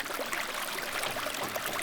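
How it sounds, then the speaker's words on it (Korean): A steady, fairly loud rush of water flows through an artificial stream and waterfall along a village valley walkway, a constant close splashing hiss with no talking. "맑고 시원한 계곡물부터 세차게 떨어지는 폭포까지"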